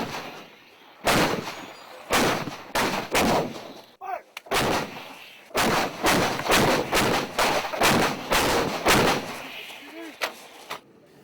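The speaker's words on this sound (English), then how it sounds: "the Marines spring into action, launching 155mm high explosive rounds with their M198 howitzers" Marine M198 howitzers fire 155mm high-explosive rounds, sending out a long series of heavy, booming blasts. Some come singly and others in quick succession, each rolling out before the next.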